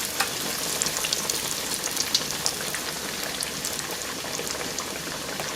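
Food fries in a pan with a constant crackling sizzle full of small pops and spits, moderately close and without any voices.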